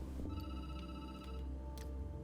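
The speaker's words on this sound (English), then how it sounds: "The phone rings." A telephone rings in the video game Night Call, a steady electronic ring with sustained tones and brief repeated chimes, close and clear over a low background hum.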